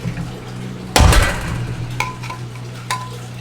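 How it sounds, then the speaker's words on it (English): An insulated Yeti cup strikes concrete with one loud, hard clank, then a couple of lighter metallic knocks and a ringing tone that lingers close by. "One more time and I'm going to hit it on the concrete."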